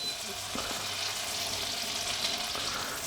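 Butter melting in a hot preheated pan gives a soft, steady sizzle and fizz with a few small clicks and pops, fairly quiet and continuous with no talk over it.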